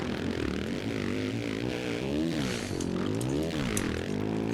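A 450 motocross dirt bike engine held at high revs at the start gate in MX vs. ATV All Out, a continuous buzzing drone whose pitch wavers up and down, steady and fairly loud throughout.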